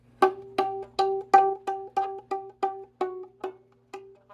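A violin plays a steady run of about a dozen short, evenly spaced G notes, clear and close with no talking.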